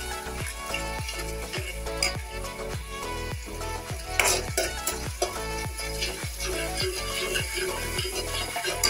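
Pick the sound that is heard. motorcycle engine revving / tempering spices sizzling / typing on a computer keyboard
tempering spices sizzling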